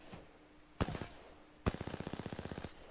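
The CAR SMG is hip-fired in Apex Legends Season 11. A short burst of about four rapid shots is followed by a pause, then a longer rattling burst of around fifteen quick, evenly spaced shots. No one speaks.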